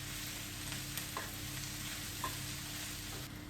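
Ingredients for a whole roasted cauliflower korma are swirled in a hot pan, giving a continuous, fairly quiet sizzle with faint scraping touches and no talk.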